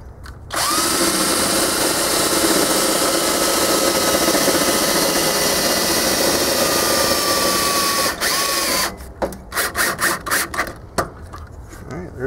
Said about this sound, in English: let's put a screw right there